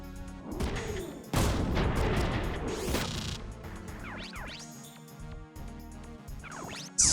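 Enemy missile fire in the mech strategy game Front Mission 3: heavy booming launches and blasts in close succession, with sweeping whooshes of projectiles and crashing impacts, loud and dense throughout.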